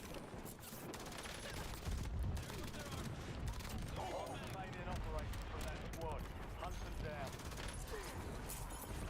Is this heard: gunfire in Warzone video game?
yes